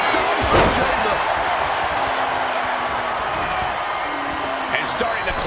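A spear tackle slams down in the WWE 2K26 wrestling video game during a Seth Rollins and Sheamus cage match at Night of Champions: one sharp thud early on over a steady roaring arena crowd, with a commentator talking throughout.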